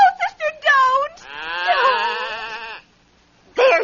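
A goat bleats in a dramatized fairy-tale audiobook: one long, wavering, nasal bleat that follows a brief spoken voice, with another voice returning at the end.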